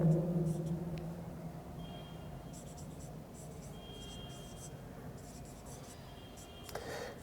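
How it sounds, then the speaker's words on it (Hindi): Chalk or marker scratching on a classroom board while an element symbol is written for a 9th-grade chemistry lesson, a soft continuous rubbing under a faint hum with no speech over it. "हम लोग यहाँ पर सिंबल ऑफ एलिमेंट लिखते हैं।"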